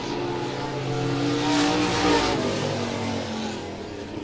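USRA B-Modified race cars thunder to the finish of a weekly heat race at the Monett Motor Speedway oval, engines swelling as the cars pass close, then easing off, with faint tire squeal.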